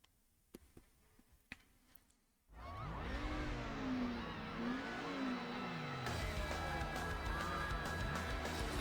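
A car engine roars continuously at high revs during a race in Need for Speed Underground, loud and steady, its pitch rising and falling with gear changes after a few quiet clicks at the start.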